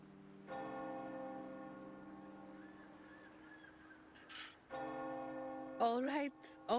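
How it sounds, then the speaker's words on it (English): A bell in the Wuthering Waves game rings with a long sustained tone, struck again partway through, while game voice sounds chirp over it near the end. "The bell was ringing."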